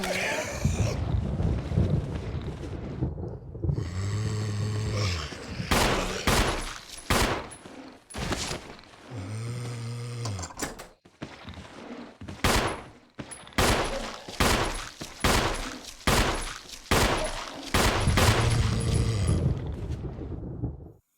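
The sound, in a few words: pistol gunshots in Resident Evil 1 video game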